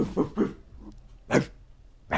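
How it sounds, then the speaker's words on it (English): A dog gives several short, fairly close barks and yips in quick succession, separated by brief pauses. "Dog alert. Dog alert."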